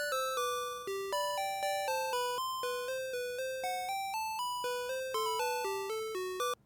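A video game chiptune melody on two square-wave channels playing together, bright stepped notes in a steady bouncy rhythm, with the two lines moving in harmony and no talking.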